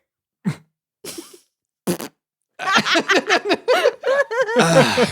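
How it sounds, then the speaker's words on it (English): A short fart sounds near and close, followed by a couple of other brief bursts, then a string of chuckles and giggling laughter that grows into a lively run of snickering. "That's a fart."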